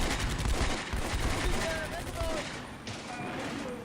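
Gunfire from a close-range pistol exchange in the Combat Mission wargame, set at La Maison Brie, crackles as dense overlapping shots with rumbling battle noise, alongside scattered whistling streaks.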